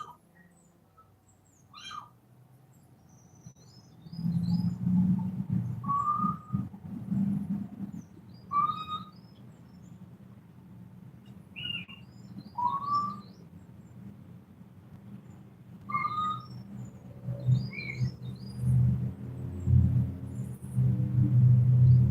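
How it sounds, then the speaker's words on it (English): A little owl calls among centuries-old olive trees and stones by crop fields, repeating short, clear hooting notes at intervals over a low rumbling background. "Among the stones scattered around the crop fields or hidden in the trunks of centuries-old olive trees, a little owl calls."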